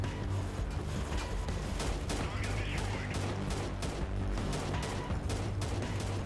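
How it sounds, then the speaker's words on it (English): SCAR rifle fire in the video game Freeman Guerrilla Warfare comes as dense, continuous bursts of gunshots within a loud, constant battle din that carries through the whole stretch. "I'm literally shooting at this guy"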